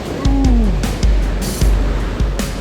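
Water gushes and splashes over wet rocks along a waterfall trail in São Paulo, a steady rushing wash broken by several low, dull thumps close by.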